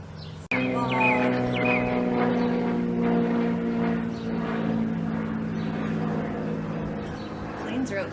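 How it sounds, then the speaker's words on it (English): A propeller airplane drones overhead outdoors, a sustained engine hum with a slowly shifting pitch that starts abruptly and continues loudly, with faint birds in the background. "Planes are out in full force today."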